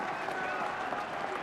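Broad stadium crowd roar and applause at a rugby cup final between Leicester Tigers and Bath, a steady dense wash of cheering that fills the whole moment, with speech faintly mixed in.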